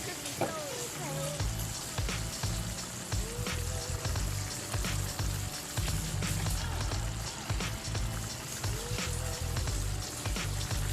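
Beef fries in a pot of fried tomatoes for a Nigerian beans dish. The oil keeps up a steady, moderate sizzle and crackle, with occasional soft stirring clatter.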